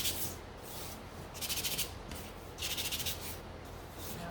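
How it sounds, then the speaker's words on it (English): Hand sanding of small mini sunflower gnome craft pieces: two distinct bursts of quick, rhythmic scratchy rubbing strokes, close and fairly soft, separated by quiet pauses. "So I'm just gonna quickly sand these"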